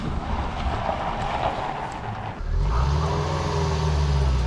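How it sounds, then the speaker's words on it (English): A car engine misfires and runs rough with low, uneven chugging that grows louder partway through, following a stretch of rushing vehicle noise. "It's not running on all cylinders."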